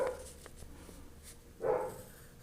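A young Labrador with very long legs, about eight months old, barking across the road outdoors, a couple of short distant barks and a louder yelp-like bark near the end, fairly faint overall.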